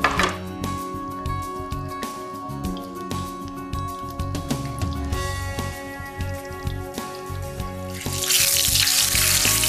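A breaded chicken cutlet for chicken Francese placed in hot oil, with clattering and tapping over a steady background hum, then a bright frying hiss that swells near the end.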